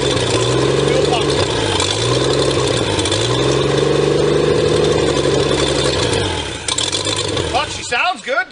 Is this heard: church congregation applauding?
no